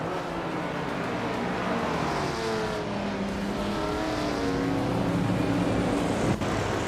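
A 1979 BMW M1 Procar races in a video game, its engine a steady continuous drone with rising and falling harmonic sweeps as it runs through gears alongside other cars, loud and unbroken throughout.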